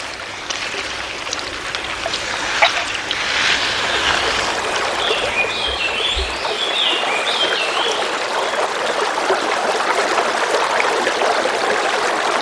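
Water of a stream flowing through the Villaluz cave, a steady close rushing and trickling that continues evenly and fills the whole stretch, with a few faint high chirps above it.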